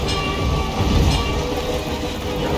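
A train passing in the video game Hitman III, set in the Carpathian Mountains: a loud, continuous rumbling roar with a faint clatter, steady throughout and heard alone.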